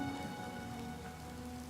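Steady rain falls in the Elder Scrolls game Oblivion, a continuous even patter of drops on surfaces holding a constant level throughout, with a faint tonal hum of ambient game music underneath and no voices.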